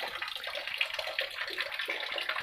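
Water flows and splashes steadily at the Son river source pond, a soft continuous babble with no talking.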